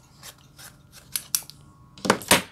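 A tailor's scissors snip through trouser fabric while cutting a side-pocket piece, with several crisp, close cuts in an uneven rhythm, the last two louder and sharper.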